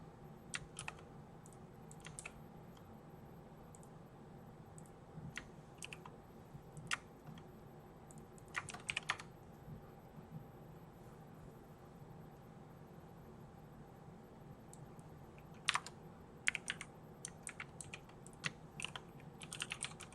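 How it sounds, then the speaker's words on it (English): Keys struck carelessly on a computer keyboard while coding, scattered bursts of sharp clicks with pauses between them, close and fairly quiet over a low steady hum, no voices. "Just hit some keys in a very bad way."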